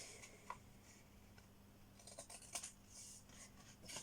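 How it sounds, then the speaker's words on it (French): Scissors snip paper at an angle while a mini album is being made, giving faint, close, irregular cutting clicks and rustles over a quiet room. "Et donc moi je coupe en biais juste ici"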